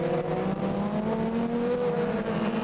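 Racing motorcycles roll out for a hot lap at the 1990 Michigan Grand Prix at Grattan Raceway, a steady, continuous engine drone held at a constant level without a break and no one talking.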